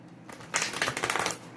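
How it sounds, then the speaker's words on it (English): Tarot deck being shuffled by hand: a quiet start, then a rapid fluttering riffle of cards close up, papery and rhythmic for about a second before it stops, with no voice. "let me shuffle one good time and see what's going on"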